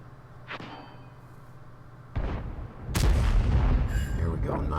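Object 704 tank destroyer cannon blasts in World of Tanks: a distant boom, then a heavier close shot followed by a loud, sustained rumbling report, with faint voice fragments in the mix.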